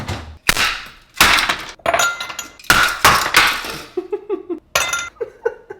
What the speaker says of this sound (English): 3 ice cubes.